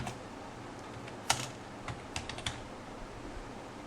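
HTML code is typed on a computer keyboard in soft, irregular bursts of key clicks, quiet and close, with a few sharper keystrokes standing out and no talking.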